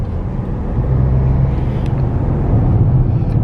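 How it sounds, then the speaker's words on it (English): Steady low rumble of road and engine noise fills the cabin of a car on the road, constant and fairly loud with no talking. "We're currently in the car driving to Hayward Heath"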